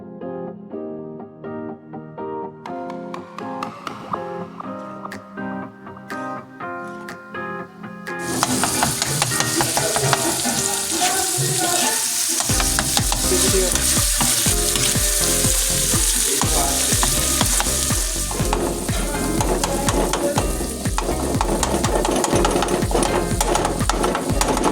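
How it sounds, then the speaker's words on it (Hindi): Minced meat keema frying on a hot tawa while being chopped and stirred with a metal spatula, a loud continuous sizzle under repeated rhythmic scraping and tapping clatter, close up. "और अब इस कीमे को कट करते हुए खूब अच्छी तरह से हम फ्राई करेंगे"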